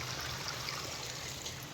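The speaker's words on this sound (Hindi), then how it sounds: "देखो पानी यहाँ से आ रहा है।" Irrigation water flows steadily into a rice paddy, a continuous soft trickling rush that stays even and fairly faint throughout, with no voices.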